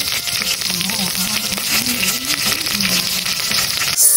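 Garlic, onion, ginger and lemongrass sauté for chicken tinola, giving a steady loud sizzle with faint stirring and scraping throughout, close to the pan.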